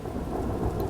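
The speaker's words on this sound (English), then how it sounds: "There's so much rain," Heavy downpour with rumbling thunder in a dino island video game storm, a dense continuous roar of rain over a deep low rumble, loud and unbroken with no talking.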